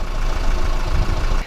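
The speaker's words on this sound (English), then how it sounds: "modern diesels don't smell or smoke, but they do idle with a bit of a clatter" A 2015 Chevrolet Cruze diesel idles with a light clatter, a steady close, low rumble running evenly before it cuts off near the end.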